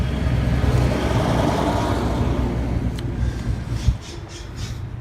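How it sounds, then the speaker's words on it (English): A garbage truck rumbles through an urban alley, a steady, loud low engine drone that eases slightly, with a sharp clank near the end and faint higher whooshes after it. "You got garbage trucks"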